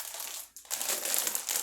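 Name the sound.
hard plastic bag of small pasta shells crinkling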